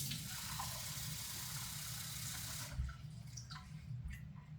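Water from a tap running steadily into a cup in a home kitchen, a continuous hiss that stops partway through, followed by a few faint clinks and drips.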